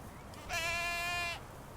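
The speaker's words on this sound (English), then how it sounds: "It's a sight to see as hundreds of goats are making their way throughout Torrance." A single goat from a herd of hundreds at a Torrance reservoir lets out a clear, wavering bleat. The call lasts just under a second, up close against a low background murmur.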